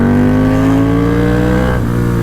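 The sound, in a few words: motorcycle engine revving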